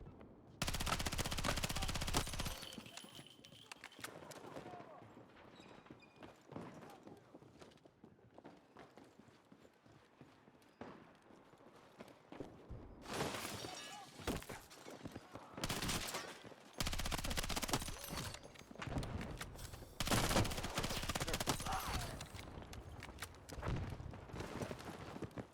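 Dense, loud gunfire in the shooter game Battlefield 6, with shotgun blasts among sustained bursts and clattering combat noise. It runs nearly continuously, with brief lulls, and a voice speaks occasionally underneath.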